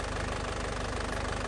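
A hot diesel engine on a 2010 Isuzu Panther LS Turbo idles steadily, with a close, even low knocking pulse and no voices.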